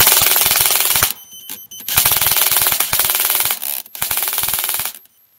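Brushless-gearbox airsoft gun firing full auto at about 22 rounds per second, loud and close, in several long sustained bursts separated by brief pauses.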